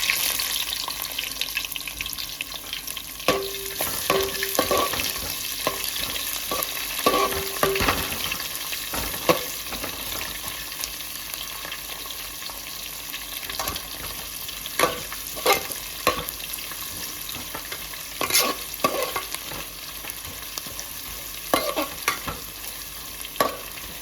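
Onions sizzle steadily in a hot pan while a utensil stirs them, with scraping, clattering knocks throughout and no talking.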